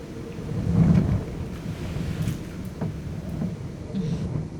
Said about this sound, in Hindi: इसीलिए मुझे तूफानों से चिढ़ है